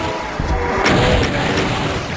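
Rocket launcher fire in the game Doom, on the Sunlust map Black Rabbit: loud booming blasts and explosions in quick succession, punchy and close, with no talking.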